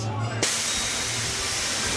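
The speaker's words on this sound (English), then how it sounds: "Like shot a blast of steam at me." A sudden burst of steam hisses out at a wand spot in a Universal theme park, a loud broadband rush that starts abruptly and holds steady over crowd noise and background voices.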